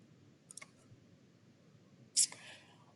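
Computer mouse clicks, a few sharp, faint taps close together, then a brief louder click and a low whispered voice in a quiet room.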